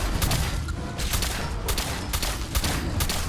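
Repeated gunshots from the video game Fallout 4 fire in a quick, evenly spaced series against a large gator claw creature, each crack sharp over a dense, continuous game background.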